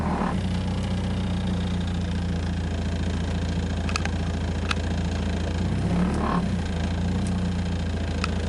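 A 1993 Mazda FD3S RX-7 engine runs at a steady low idle and is given a couple of light blips of throttle, with faint clicks over a constant drone.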